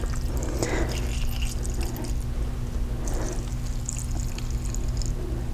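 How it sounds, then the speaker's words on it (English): Liquid is poured steadily into a pot of braised chicken thighs and collard greens, a continuous close splashing and gurgling that runs alone for several seconds. "I'm going to add just a little more liquid to it"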